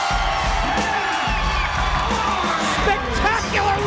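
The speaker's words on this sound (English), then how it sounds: "The crowd going crazy." A wrestling arena crowd roars and whoops after Jeff Hardy wins a steel-cage Lockdown 2005 match against Raven, a loud, dense and continuous wash of cheering and yelling with scattered shouts rising over it.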